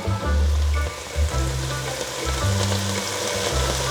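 Garlic frying in a pan while a meal cooks, a steady broadband sizzle that runs throughout, with low-pitched humming rumbles repeating underneath.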